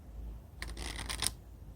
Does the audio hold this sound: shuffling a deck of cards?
yes